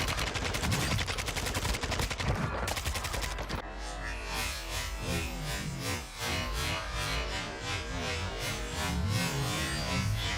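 Rapid automatic gunfire from a first-person shooter video game, loud and continuous bursts of shots throughout with dense crackling reports, no talking.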